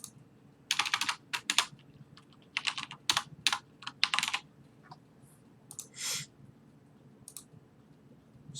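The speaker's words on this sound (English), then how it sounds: "If I could type it in right." Keys clatter on a computer keyboard in quick bursts of clicking taps, with short pauses between runs and a single isolated keystroke near the end, close and moderately loud.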